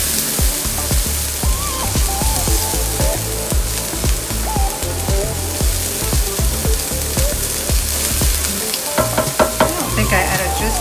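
Onions fry in canola oil in a pan, a loud dense sizzle with constant crackling pops and spatters, steady throughout with occasional scraping or stirring touches, no voices.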